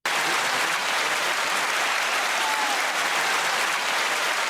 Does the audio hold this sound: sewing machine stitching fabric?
no